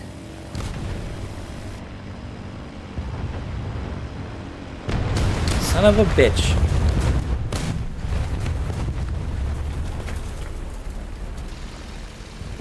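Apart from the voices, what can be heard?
bomb explosions from a Stuka dive bomber in War Thunder video game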